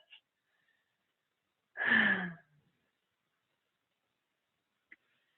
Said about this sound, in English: So we're just going to do a little breath.